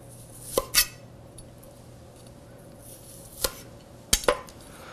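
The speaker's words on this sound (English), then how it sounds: "Bring our trusty cutting board back. I'm going to cut these into slices." Knife slicing food on a trusty cutting board in a home kitchen, a few sharp clicks and taps spaced apart, the blade striking the board in pairs, close and fairly quiet.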